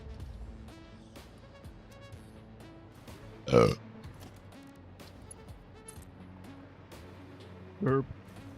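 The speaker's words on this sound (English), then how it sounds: "I just burped." A person burps twice, a loud close belch midway and a shorter one near the end, over a background of game music.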